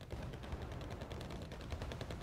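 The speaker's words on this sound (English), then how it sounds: "it's just some motor strelky getting taken out by the machine guns on these ZTZs" Tank-mounted machine guns fire in the Wargame Red Dragon battle game, a steady dense rattle of rapid shots held under a continuous low rumble of combat noise for the whole stretch.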